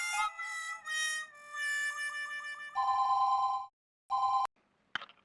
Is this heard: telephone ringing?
yes